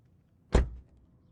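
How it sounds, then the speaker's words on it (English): A door is shut once with a single close, solid thump and a short rattling decay, inside a quiet room, with no voices. "Now shut the door"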